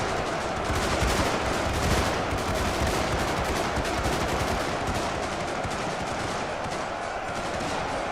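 Dense, continuous rifle fire from massed troops in the Ultimate Epic Battle Simulator 2 game, a Warhammer 40k Space Marines versus Eldar battle, crackling as a steady loud barrage with no pauses throughout.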